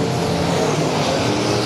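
IMCA stock cars roaring past on a dirt track, a loud, dense, continuous engine drone that stays steady and close, with no talk.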